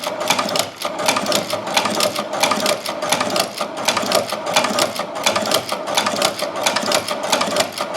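A leather shoe patcher sewing machine stitches in a fast, steady run of rhythmic mechanical clatter, close and continuous with no talking.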